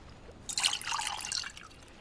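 Water pours into a clay bowl in a survival game, a brief bright splashing trickle lasting about a second, close and alone.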